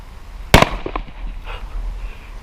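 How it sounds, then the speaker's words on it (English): A water bottle packed with dry ice bursts in one sudden, very loud bang, followed by a brief scatter of rattling debris and echo fading over the next second or so. "So we're just patiently waiting for this to explode."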